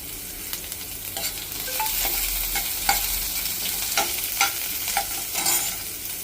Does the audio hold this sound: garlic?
yes